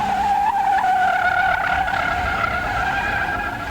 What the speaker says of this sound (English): These tires are now squalling, and they're not doing anything but making noise